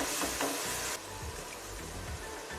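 Tomato and green chili pieces frying in a pan, a bright sizzle that drops in level partway through, with soft stirring scrapes and thumps beneath.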